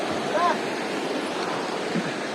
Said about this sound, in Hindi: ये नदी तारू नदी है